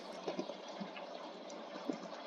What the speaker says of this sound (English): Now fill in the area with soul sand with water